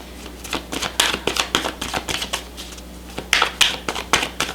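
Tarot cards being shuffled and drawn by hand, a rapid run of crisp papery flicks and snaps in uneven bursts, close and clear with no talking.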